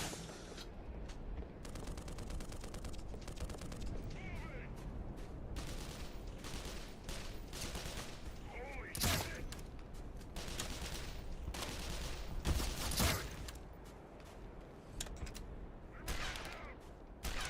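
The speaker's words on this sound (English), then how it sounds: "That's a shotgun." Gunfire rings out in the video game Black Mesa, with repeated loud blasts of a shotgun and other weapons over a dense, noisy battle mix. Several sharp bursts stand out in close succession, and no voices are heard.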